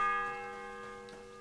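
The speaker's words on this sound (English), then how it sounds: "The first bell." A bell in a video game rings with one sustained metallic tone that slowly fades, heard alone against a quiet background hum.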